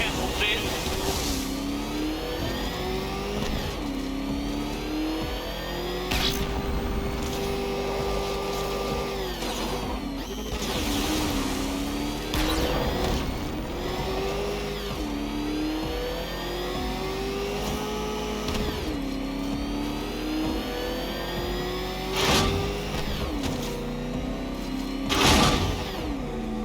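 Batmobile engine in Batman: Arkham Knight revving and whining up and down in repeated surges, with sharp impacts and clanks between, under a continuous game soundscape and voices talking.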